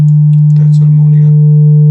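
A low sine test tone carrying 50% third-harmonic distortion hums steadily and unbroken from start to finish, with a faint, brief murmur of voice-like sound drifting through the middle.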